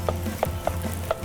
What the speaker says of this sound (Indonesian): Jadi cukup ditekan-tekan seperti ini nasinya.